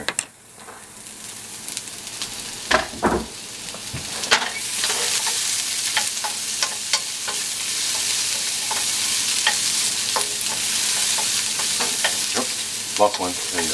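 Sliced onions and peppers sizzle loudly in a hot pan, a steady hiss of frying broken by repeated clacks and scrapes of a utensil stirring the vegetables, close up with no talking.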